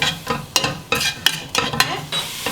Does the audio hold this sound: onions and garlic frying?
yes